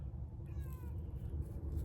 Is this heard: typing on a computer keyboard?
no